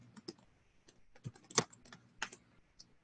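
Keys tapped on a computer keyboard while entering text into a form, with irregular clusters of light clicks and a couple of sharper, louder strokes near the middle, close and clear with no voices.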